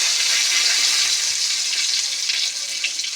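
Cumin seeds and bay leaves dropped into hot oil for a mutton dish, a steady loud hiss and sizzle close by that holds without a break, then dips slightly near the end.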